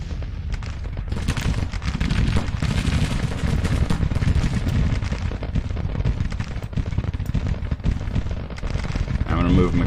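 Continuous dense battle din from Grand Tactician: The Civil War, with rolling gunfire and artillery booms layered thick and loud, while a voice talks over the clamor throughout.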